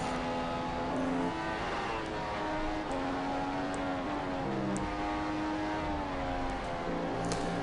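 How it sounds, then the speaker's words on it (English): Race car engines in a racing video game, set at Silverstone for a Britain round, droning steadily as the cars brake through the Maggots and Becketts corners, with the engine pitch shifting and no talk over it. "They're using a lot of engine braking going through Maggots and Beckett's"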